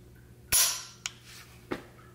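A Noveske N6 Gen3 rifle trigger dry-fired indoors gives one sharp, loud click, followed by two softer, brief mechanical clicks as the trigger resets, with no one talking.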